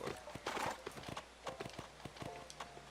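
Horse hooves clip-clop in a steady walking rhythm in the video game Go Vacation, close and clear with a faint whinny, with no talk over them.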